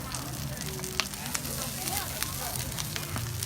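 Mixed greens sizzle in a hot pot with a steady, dense crackling hiss and scattered sharp pops, moderately loud and close throughout.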